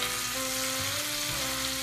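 A duck breast sears in butter in a pan, giving a dense continuous sizzle and crackle with a faint steady hum under it and no talking.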